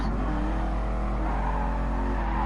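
A Ford race car engine in GT Sport, an older car with an old gearbox, droning steadily and loudly at high revs throughout, with no talk.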